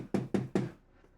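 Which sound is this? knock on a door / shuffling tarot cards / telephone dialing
knock on a door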